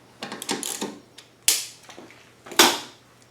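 Bolts being snugged down on a DuroMax 9500 generator cabinet give a quick run of light mechanical ticks and rattles, then two sharp, louder metallic clacks spaced about a second apart, close up with no talking.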